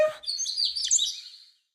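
A cartoon bird on a morning TV show lets out a quick, bright burst of high chirps and tweets, close and clear, trailing off into silence.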